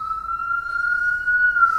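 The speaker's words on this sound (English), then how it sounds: "It was an ambulance." An ambulance siren holds a steady wailing tone, a single sustained pitch with faint harmonics, continuous and moderately loud over low traffic rumble with no talk.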